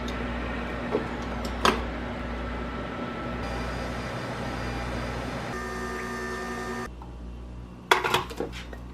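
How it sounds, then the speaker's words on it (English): A microwave oven hums steadily while heating a pancake bowl, a continuous drone with a shift in tone partway through, then a few clinks and clatters as it stops. "I'm gonna microwave this for 2 minutes and 30 seconds"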